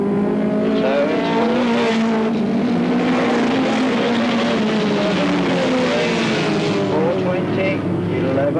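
Race cars at Alwalton Raceway in 1983, engines droning steadily with shifting revving pitches throughout, under a commentator's continuous talk.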